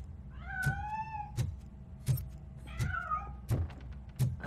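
A cat in the video game RoboCop: Rogue City meows repeatedly in drawn-out, wavering calls, interleaved with regular thudding footsteps, fairly close and clear with no talk.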